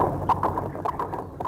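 Horses galloping side by side, hooves clip-clopping in a quick uneven rhythm of sharp knocks at moderate volume, heard alone without voices.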